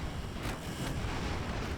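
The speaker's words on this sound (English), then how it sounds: "Well, we've had an explosion." Explosion aboard an airship in the game Airships: Conquer the Skies, a dense, loud rumbling roar with a couple of sharper cracking bursts inside the steady wash.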